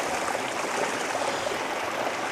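Mountain stream water in Tajikistan rushes steadily downhill from a waterfall, a dense, continuous broadband wash with no pauses, close and fairly loud, heard alone with no talk.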